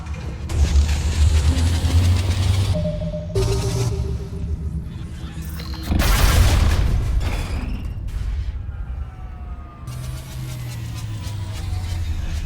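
Weapons fire in the Mass Effect video game as bursts of loud, booming shots and blasts, broken by short pauses, with rumbling background noise throughout.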